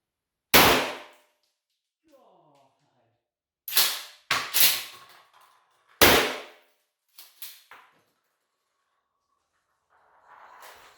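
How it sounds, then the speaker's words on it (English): A 12 gauge shotgun fired into a brick chimney backstop indoors: several loud, sharp close blasts with short decays, with quieter clanks and a brief faint voice between shots. "I am shooting at the same wall."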